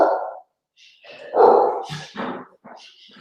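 A dog barks several times at close range, loud and uneven, with short yips and a whimpering edge between the barks and no talk.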